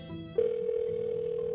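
An outgoing phone call tone plays in a visual novel video game, a steady electronic tone that starts abruptly and holds evenly over a softer background tune.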